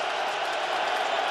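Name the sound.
football stadium crowd cheering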